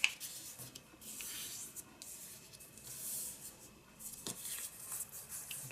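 Paper folded in half and creased by hand for a mixed media journal spread: soft, close rustling and rubbing swells and fades in several bursts, quiet throughout and with no voices.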